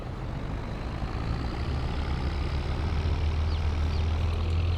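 A John Deere tractor in Farming Simulator 22 hauls a heavy 39,000 load, its engine a loud, steady low drone that builds slightly toward the end with no pauses.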